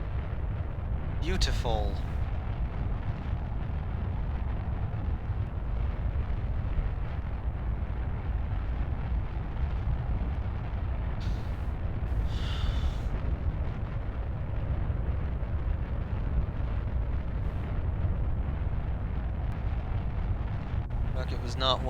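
Steady roaring rocket engine rumble from a Kerbal Space Program launch carrying a satellite, continuous and loud throughout, with someone briefly speaking over it.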